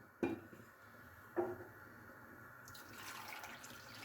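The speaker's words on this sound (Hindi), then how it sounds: "ये 4 कप हम इसमें दूध डालेंगे" Milk is poured onto chicken pieces for buttermilk fried chicken: two sharp clinks, then a steady, soft liquid pour that builds and keeps running to the end.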